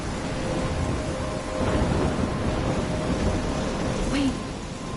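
Heavy rain pours steadily in a video game thunderstorm, a dense hiss under a low, continuous rumble of thunder that swells slightly midway, with a faint voice in the background.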